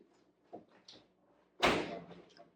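An oven door swung open to take out disposable pans of leftovers, a few faint knocks and rattles first, then a loud close clunk and rattle followed by fading scrapes.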